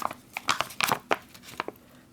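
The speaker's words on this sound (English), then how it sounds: "we'll give this a good shake" A drink pouch from a Canadian IMP ration pack (veal with mushroom sauce meal) is shaken, giving a burst of crinkly, crunchy plastic rustles in quick irregular pulses, close and fairly soft.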